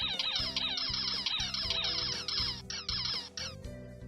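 Rapid, high-pitched squeaks repeat in quick bursts over a busy backing track in the Hatoful Boyfriend video game, loud and continuous.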